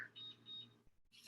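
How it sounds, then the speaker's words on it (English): A kitchen timer gives two short high beeps in quick succession as it is set, close and clear, followed by a brief pause and a burst of other kitchen noise. "I'm gonna set a timer for"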